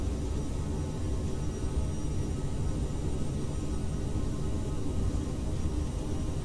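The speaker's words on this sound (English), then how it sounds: "It's a very quick takeoff roll, I'm very impressed." Aerosoft CRJ1000 jet on its takeoff roll in Microsoft Flight Simulator, a steady, loud low engine roar and rumble that holds evenly throughout with no voices.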